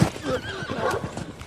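Horse dragging an escaping slave in a dramatized story, a close whinny over rhythmic clip-clop hoofbeats and rustling movement, brief and fairly loud.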